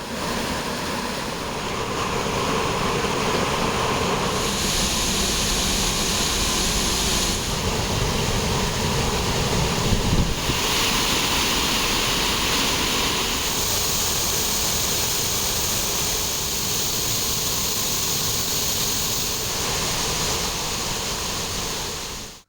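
After heavy rain, Thiruparappu waterfall roars in a loud, unbroken torrent of crashing water, dense and steady throughout with no voices.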